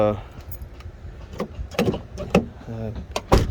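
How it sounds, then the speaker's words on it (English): A 2005 Honda CR-V door that had been sticking shut is worked open, with jangling keys, latch clicks and thumps of the door mechanism in a quick, irregular sequence, close up and moderately loud. "And now the door opens again."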